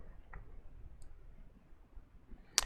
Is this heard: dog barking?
no